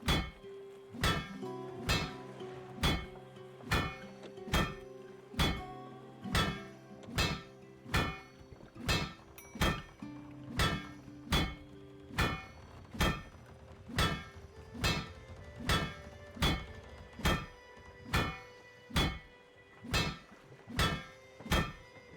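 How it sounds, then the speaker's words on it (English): Hammer strikes in the video game Spiritfarer, a long series of evenly spaced, resonant wooden knocks, each ringing briefly before the next, repeating steadily about once a second and close up. "This is taking a lot of hammer hits"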